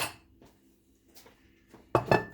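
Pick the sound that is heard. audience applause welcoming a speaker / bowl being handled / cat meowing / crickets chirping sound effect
bowl being handled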